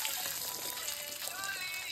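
Bay leaves, panch phoron and dried red chillies sizzle steadily in hot oil in a pan, a close, continuous crackling hiss with no pauses.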